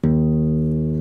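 The low string of a classical guitar, tuned down a half step to E flat, plucked once and left to ring, sustaining steadily with a warm, resonant tone that barely fades.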